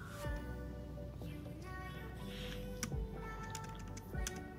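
A website address is tapped out on a computer keyboard as quick, light, fairly faint clicks over a steady low hum.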